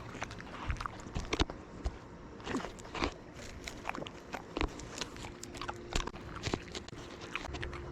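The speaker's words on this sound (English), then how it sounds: "he really likes chewing that shit" A dog named Maki chewing and biting on something close up, with repeated crunchy gnawing bursts spread irregularly through the stretch over a low background.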